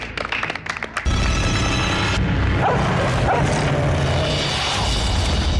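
Dogs released for a stunt on a reality adventure show yip and whimper in short bursts at first, then a loud, dense wash of noise covers the barking for the rest of the clip.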